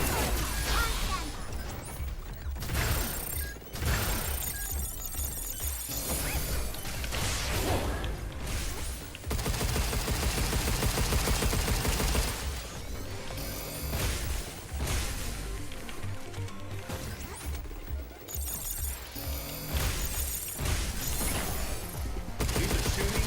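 Bursts of gunfire and crashing impacts pound through a firefight in the video game Pragmata, rapid volleys repeating in uneven clusters with brief gaps and whooshes between them, loud and dense throughout.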